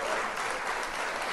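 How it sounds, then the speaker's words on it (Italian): Brief, lively applause for a boat pilot, a burst of dense clapping from a small group, close and steady through the short moment. "Ragazzi, un applauso al pilota."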